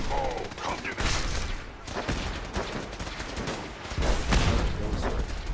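A robot fires a laser from its face in Fallout 4, a dense, loud barrage of crackling blasts and booms that never lets up, with a voice speaking faintly underneath.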